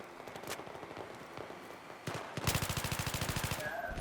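Rapid automatic fire from an F2000 assault rifle in the shooter game Battlefield 3, a few scattered shots early, then a dense, fast stream of loud evenly spaced rounds close by.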